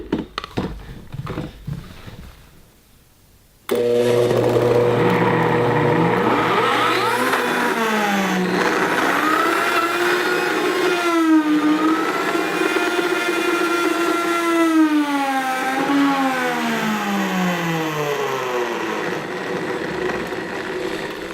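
High-speed blender grinding almonds into nut butter, starting with a few clattering knocks, then kicking into a loud, sustained motor whine whose pitch rises and dips as the load changes, running steadily to the end.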